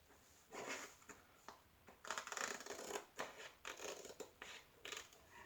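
Scissors snip through a finished diamond painting canvas, cutting it out for framing: a series of close, crisp crunching cuts in irregular bursts with short pauses between.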